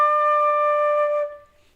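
One held flute note D, steady and clear for over a second and then tapering off, played solo close up with no voices.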